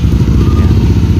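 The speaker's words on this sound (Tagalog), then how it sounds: "So bago tayo mag-continue, kailangan i-start yung motor." A motorcycle engine runs up close for a CKP sensor test, giving a loud, steady idle with a dense, rough low rumble.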